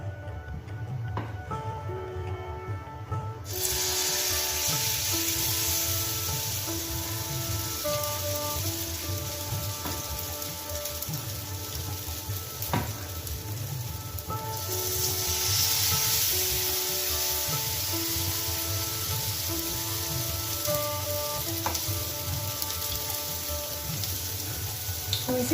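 Sweet potato malpua batter frying in hot oil in a non-stick pan, with a steady close sizzle and crackle that swells once new batter goes in and continues evenly under faint background tones.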